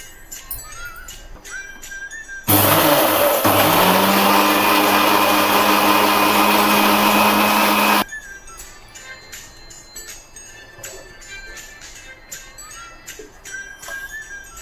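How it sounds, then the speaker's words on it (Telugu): An electric blender whips eggs and half a cup of sugar to a froth for a palm fruit cake, starting abruptly with a loud, steady whirring whine that runs for about five seconds before cutting off, with quieter kitchen clatter around it. "ఇప్పుడు దీన్ని బ్లెండ్ చేసుకోవాలండి. బాగా నురగలా వచ్చేయాలి."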